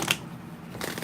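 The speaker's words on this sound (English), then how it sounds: "I feel like I need to reshuffle." Tarot cards are shuffled by hand close up, with two brief papery flurries at the start and end and a quiet gap between, with no talk.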